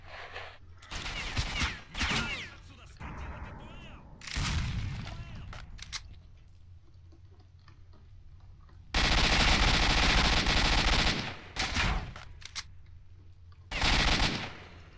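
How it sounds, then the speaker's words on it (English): Loud bursts of gunfire from the S.T.A.L.K.E.R.: Shadow of Chernobyl video game, with heavy blasts and sustained volleys that come and go over roughly fifteen seconds, including a long continuous barrage near the middle. "Thought he was using a shotgun there."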